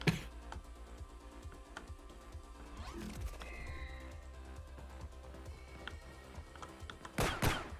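Video game gunfire while shooting at one's own team: rapid repeated shots crackling over a dense game soundscape, with a louder burst near the end.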